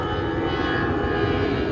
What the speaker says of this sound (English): Plane flying over.